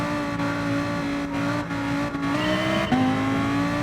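Race car engines in Gran Turismo Sport at the start of a race, loud sustained revving with several sharp pitch drops as gears shift, a dense engine whine with no talking.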